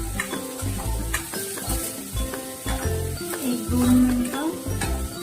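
Onions frying in oil over a medium flame while being stirred, giving a steady close sizzle broken by scraping, clattering stirs. Someone speaks briefly over it.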